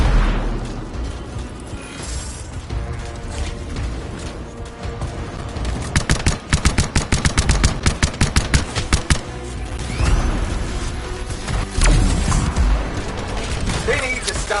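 Gunfire in the video game Anthem, rapid bursts of automatic shots in tight rhythmic volleys amid mechanical clatter and action noise, loud and close, with voices talking at points.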